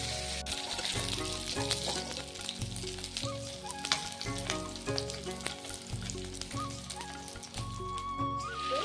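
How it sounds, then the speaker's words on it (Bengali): Fish pieces frying in hot oil in a pan, a dense steady sizzle with crackling pops and occasional stirring clatter throughout, close and loud, no talking. "এবার লাল লাল করে ভেজে নেব।"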